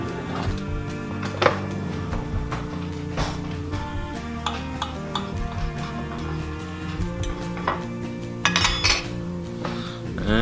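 A steak knife and fork scrape and clink against a plate of seared steak dressed with balsamic vinegar, with busy cutlery chinks throughout under a bed of background music.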